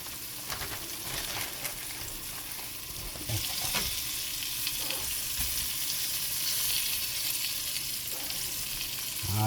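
Meat for a beef stew sizzles steadily in a hot pan, with a continuous bright crackling hiss that swells louder partway through and carries on close and unbroken, with occasional soft knocks and no talking.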